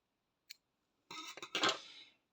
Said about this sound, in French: On va couper le fil blanc.